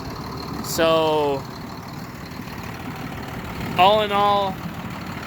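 A John Deere 7800 tractor engine idles steadily in the background, a low constant rumble running under two short stretches of someone talking.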